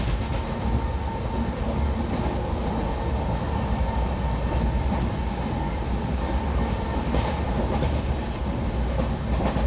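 Train on the Ayodhya Junction to Varanasi Junction line running through Katehari station without stopping, heard from on board as a steady loud rumble with rapid clickety-clack of wheels over rail joints throughout.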